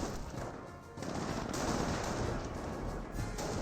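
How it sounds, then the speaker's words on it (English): Rifle fire from a Company of Heroes battle, with a rifleman squad trading long-range shots with Panzer Grenadiers across a road: a dense, continuous crackle of overlapping gunshots and machine-gun bursts under a steady roar, with no clear breaks. "Rifleman squad engages the Panzer Grenadiers at long range, firing across that road"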